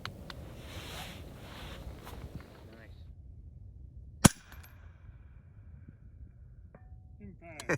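Single sharp rifle shot at a 600-yard target with an Atibal Hybrid 12 first focal plane scope, loud and abrupt after a stretch of quiet outdoor background, followed by faint sounds afterward.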